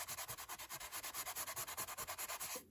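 Rhythmic rubbing over a die-cut cog piece for a steampunk masterboard: about twenty quick, even back-and-forth scratchy strokes, close and quiet, ending abruptly.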